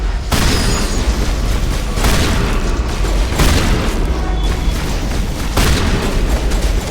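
Shotgun blasts and booming gunfire from the video game Mass Effect form a dense, loud and continuous barrage with several sharper peaks, and no speech is audible.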